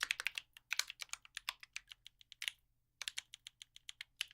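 Credentials are typed on a computer keyboard, a quiet close run of crisp key clicks in uneven bursts with a short pause midway, no voices.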